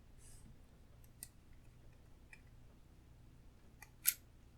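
A Chinese-import fountain pen with a large number 8 nib being opened, a few faint, sparse clicks and snaps in a quiet room, with one sharper click near the end.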